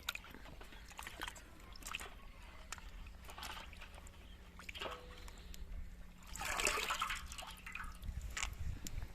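Malta oranges rubbed clean by hand in a tub of water in a village setting, giving soft sloshing, dripping and trickling that swells louder near the end, close by with a faint steady hum beneath.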